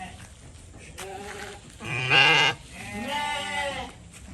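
Garut sheep in a pen give several close bleats, a couple of short calls followed by a loud, drawn-out bleat and another wavering cry, with faint pen noise between them.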